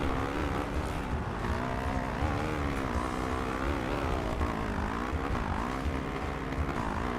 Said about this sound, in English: This is bogging a little bit to me right now, just because I'm in these weird gears